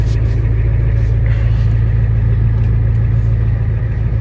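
A truck engine idles steadily while warming up, a loud, close, continuous low rumble with a constant hum that holds even throughout, with no talking over it.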